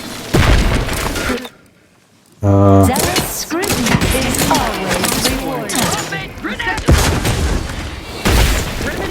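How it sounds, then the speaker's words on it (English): Gunfire in The Outer Worlds 2 video game: sharp loud shots and booming impacts hit repeatedly, broken by a brief near-silence, with a voice talking among the shots. "Who's shooting me? I'm taking cover all the time, but I keep getting shot."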